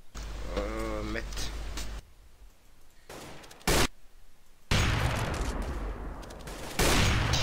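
Bursts of Counter-Strike: Global Offensive gunfire, a few sharp shots and louder noisy blasts, with a voice talking over the first part.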